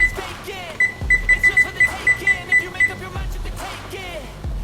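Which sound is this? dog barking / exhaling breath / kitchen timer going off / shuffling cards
kitchen timer going off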